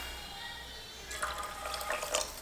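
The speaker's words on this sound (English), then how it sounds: "we'll just put enough water to cover the top of the rice and a little bit more" Water runs and splashes into a pot of rice, starting about halfway through as a close, steady pour with small drips, and no voices over it.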